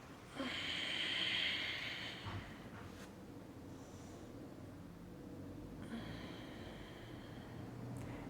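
Slow yoga breathing, with a long, breathy inhale through the nose that rises and fades, followed by a softer, drawn-out exhale, quiet and close over faint background hiss.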